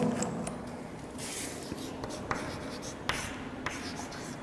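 Chalk or marker strokes scratching across a classroom board during a Hindi grammar lesson, a run of short scraping strokes with small taps, steady and close, with no talk over it.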